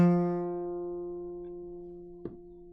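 A single guitar note fretted at the third fret rings out clearly and decays slowly, with a faint finger squeak or pick noise near the end and no talking.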